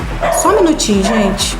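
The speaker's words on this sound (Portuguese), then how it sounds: "Tem um cachorro latindo no fundo." A dog barks and yips in the background in a few short bursts, while a person speaks over it in the foreground.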